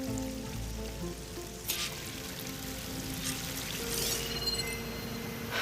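A waterfall in the video game Horizon Forbidden West, a steady rushing pour of water heard as a broad continuous wash, with no speech.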